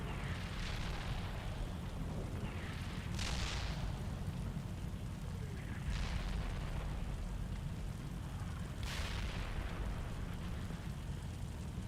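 Friendly artillery fire in the Steel Beasts Pro PE tank simulator: four muffled booms arrive at intervals of roughly three seconds. They sit over a steady, noisy rumble and sound distant, with no talk.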